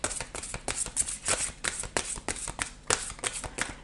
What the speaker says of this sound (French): je vais vous tirer une dernière carte, un dernier conseil